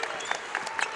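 At a Cleveland State versus Green Bay college basketball game, an arena crowd cheers and claps at the opening tip-off in a short, steady burst of loud applause.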